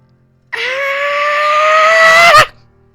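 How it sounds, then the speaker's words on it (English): A single loud, sustained scream from a voice holds for about two seconds and then cuts off abruptly, alone against near silence. "she screams as loudly as she can"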